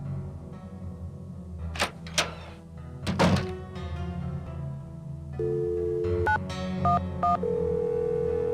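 Telephone in a ticket booth in a Nancy Drew adventure game: a few thunks as the receiver is lifted, then a steady dial tone and a quick run of keypad dialing beeps, all fairly quiet.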